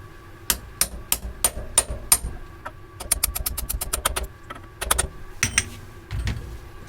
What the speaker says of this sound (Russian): И, используя головку на 27 в качестве оправки, аккуратно запрессовываем его на место.